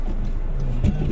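A car stuck in snow on a Canadian winter road spins its wheels, making a loud, steady, close engine drone that surges briefly near the end.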